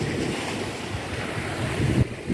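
Sea waves surge up a beach at high tide, a steady roar of surf with gusty wind buffeting the microphone, swelling louder near the end with no voices.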